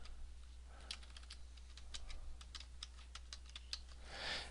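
Someone types a username on a computer keyboard, a brisk irregular run of soft key taps close to the microphone in a quiet room with a low steady hum.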